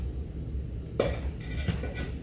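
Pots for a spring table centerpiece are gathered and handled, giving a sudden clatter followed by a couple of lighter knocks and scrapes, close by with no speech.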